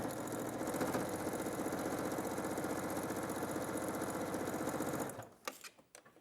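Sewing machine stitching a gap closed in quilt binding runs steadily at speed for several seconds, then stops, leaving a few faint clicks and handling noises.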